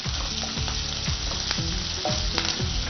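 Green chilies and capsicum sizzle steadily in a hot pan, a dense crackling hiss with scattered pops and stirring scrapes, close and continuous.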